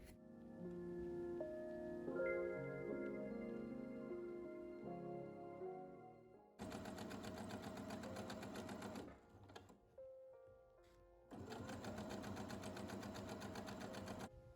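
A sewing machine stitches fabric hems in two loud bursts of rapid, rhythmic mechanical clatter. Quieter handling sounds come before and between the bursts, and no one talks.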